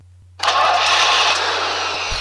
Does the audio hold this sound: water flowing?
no